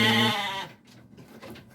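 A five-month-old F1 Dorper sheep gives one loud, close bleat that breaks off partway, followed by quieter pen noises.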